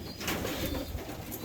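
A pigeon cock bird coos in a loft, soft repeated throaty murmurs close by over a quiet hissy background.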